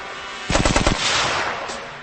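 A historic machine gun fires a rapid burst of about ten loud, close shots, followed by a lingering roar of echo and reverberation with no talking.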